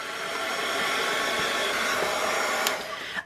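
A heat gun blows in a steady, loud whooshing drone over freshly sprayed paint on a craft piece, holding an even tone before a brief clack near the end.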